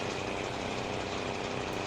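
A tractor pulling a New Holland 116 Haybine hay mower in a farming video game drones with a steady, continuous engine hum, alone with no voices.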